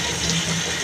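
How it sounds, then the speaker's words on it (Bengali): Running tap water splashes steadily over a pointed gourd (potol) being rinsed in a home kitchen, a continuous close wash of water alone. "পটলটাকে এখন ধুয়ে নিই।"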